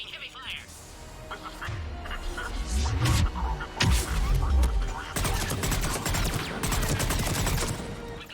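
Heavy gunfire crackles through a Mass Effect 3 firefight, dense bursts and sharp impacts building from about three seconds on and staying loud to the end, with game voices mixed in underneath.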